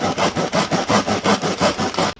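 A hand saw cuts through Daiso rubber wood at a right angle, loud rhythmic back-and-forth rasping strokes, about eight in a steady even tempo, close up and alone before stopping abruptly.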